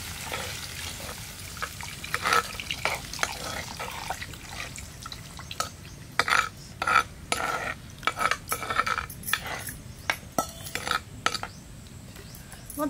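Tamarind juice poured into a simmering dry fish curry in a village-style kitchen, giving a steady sizzling bubble broken by frequent sharp clicks and splashes of liquid and utensil, close and moderately loud with no talking.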